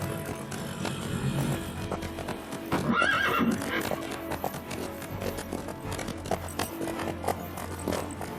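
A horse in a video game neighs and whinnies, with a clear whinny near the middle over a steady bed of hoof clip-clop and ambient game sounds, fairly quiet overall.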